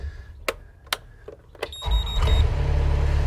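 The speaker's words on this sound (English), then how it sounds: "So the machine starts" A Mustang machine being checked for an electrical fault: a few sharp clicks and switch knocks, then the engine cranks and starts, settling into a steady, close running drone with a faint whine.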